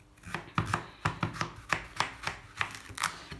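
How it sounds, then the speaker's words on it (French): A knife chops courgettes into cubes on a board, about a dozen crisp, close knocks falling in a steady, fairly quick rhythm with no talk over them. "je vais couper mes courgettes"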